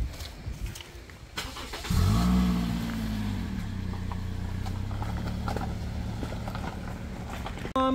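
A car starting up and pulling away, the engine catching and rising into a revving drone that holds steadily, with scattered clatter beforehand and a sharp knock at the very end.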